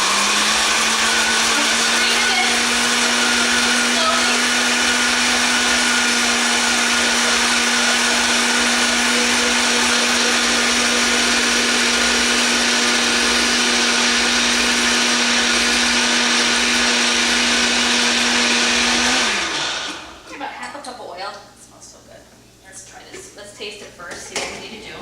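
A blender whirs steadily at full speed while mixing the batter for tuna cakes in a home kitchen, then cuts off near the end, leaving a few faint kitchen clatters.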